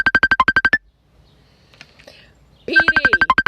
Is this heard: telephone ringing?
yes